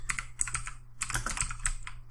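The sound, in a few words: typing on a computer keyboard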